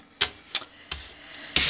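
Tarot cards shuffled by hand in several separate sharp, papery bursts with short pauses between them, close and fairly loud, no voices.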